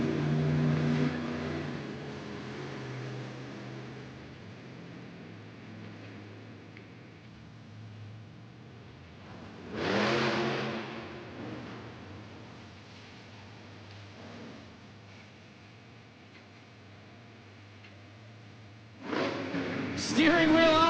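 The Plain Crazy monster truck's engine revs in an indoor arena, with loud surges at the start, in the middle and at the end over a constant crowd and arena din, and an announcer talking.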